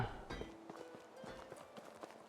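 A donkey's hooves clip-clop at a walking pace in Medieval Dynasty, with soft, uneven hoofbeats thudding on the ground at moderate distance amid quiet ambient game sound.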